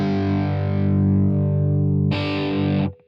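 A guitar amp model blends a modern preamp-based distortion with a Rock 900 channel: a sustained, loud distorted chord rings out, then a brighter, buzzier strum cuts in before the sound drops away abruptly.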